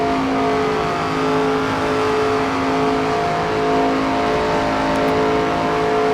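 Stock race car engines in the NASCAR 25 video game drone steadily in a loud, continuous roar with layered harmonic whine, holding pitch through the turns without a break.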